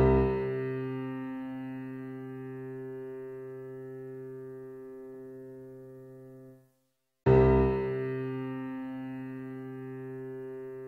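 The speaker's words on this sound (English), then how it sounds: "the C one octave higher than our low C will begin to vibrate and sound like this" A piano's C string one octave above low C rings by sympathetic vibration, a sustained harmonic tone fading slowly over about six seconds, then a brief silence before the same steady tone swells in again and holds.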